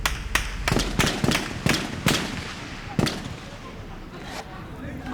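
Rapid bursts of close gunfire crack and echo through urban streets during fighting with Séléka militia, a quick irregular volley of loud shots that thins out into scattered distant reports.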